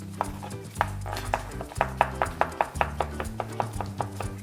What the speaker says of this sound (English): You can take your stems and chop them up.